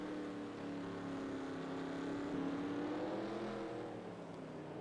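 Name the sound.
race cars in video game NASCAR Racing 2003 at Mexico City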